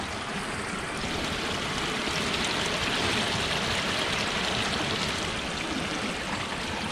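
Steady, loud rush of stream water flowing past a snare set in the current, continuous broadband wash with no pauses and no voices.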